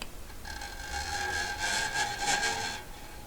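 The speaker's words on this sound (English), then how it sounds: "This is the sound of my nail" A fingernail scrapes down a bass guitar's low E string: a quiet, gritty sweep rising in a whistling tone over about two seconds, close and alone.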